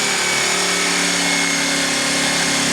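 A jigsaw cuts a small piece out of wood during a wagon build, its motor and blade making a loud, steady, close buzzing rasp that runs unbroken throughout.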